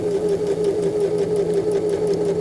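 A sewing machine topstitches through a garment and its facing, running at a steady even buzz with a fast rhythmic needle chatter, close and continuous with no voices.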